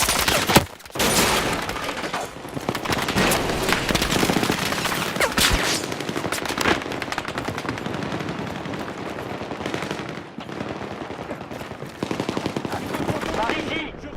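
Heavy, sustained gunfire fills a Battlefield 6 campaign battle, rapid automatic bursts and booming shots layered into a loud, dense barrage with brief lulls, and a voice occasionally speaking beneath it.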